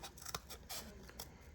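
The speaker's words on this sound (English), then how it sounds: "you're going to take your scissors and you're going to cut all of this out" Scissors snipping through cardboard while cutting out a hoop earring shape, several quick crisp cuts in close, quiet succession with no talking.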